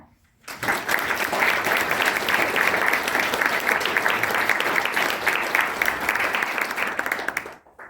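Sustained audience applause fills a hall during an award ceremony honoring Oklahoma City Mayor David Holt, a dense steady clapping that rises quickly, holds for several seconds, then cuts off.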